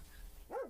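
A single close dog bark or whine rises and falls near the end. It sounds over a faint, quiet background, with no voices.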